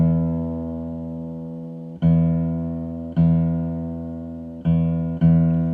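Low E string of a guitar plucked for tuning: a sustained, ringing low note struck four more times at uneven intervals, each pluck decaying slowly, close and alone.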